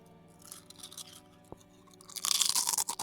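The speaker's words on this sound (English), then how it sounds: "Not exactly the sound of crunching ice, but it's close enough." A crunch sound effect stands in for crunching ice, a short burst of gritty, crackling crunches that swells loudly near the end after a quieter stretch of faint rustling.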